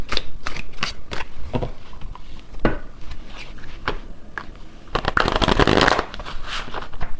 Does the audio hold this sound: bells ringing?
no